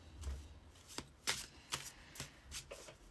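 Tarot cards being shuffled by hand in a quiet room, a series of about ten crisp riffling snaps at irregular intervals, close and soft, with no talking.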